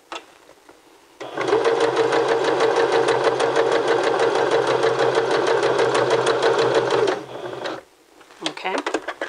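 A sewing machine runs a zigzag stitch at a fairly quick pace, its loud rapid chatter and motor drone holding steady for about six seconds before stopping, with brief handling noises afterward.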